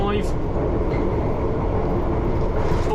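A London Underground train runs through the junction by the Heathrow Terminals 2 and 3 platform, giving a steady, close, low rumble of wheels and motors with a brief higher squeal near the start.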